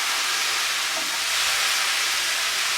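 Two thinly sliced courgettes frying in a pan, a loud, continuous hissing sizzle that stays steady throughout with no speech.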